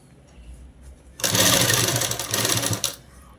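A sewing machine stitching the seam of a girl's frock runs in one continuous burst of rapid needle chatter for a little under two seconds, starting and stopping abruptly.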